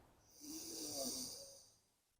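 A long, deep inhale through the nose during a standup paddleboard vinyasa yoga session, airy and breathy, swelling then tapering off over about two seconds, close and fairly quiet.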